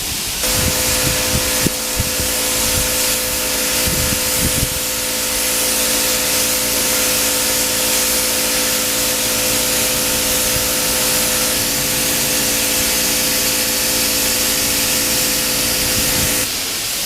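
Spray gun laying clearcoat on motorcycle fairing parts during a Ninja restoration, a loud, steady compressed-air hiss running nearly unbroken for over fifteen seconds, with a few brief knocks near the start.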